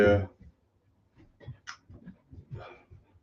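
A dog whimpers and pants softly in short bursts, nearby and faint, with a person talking over it.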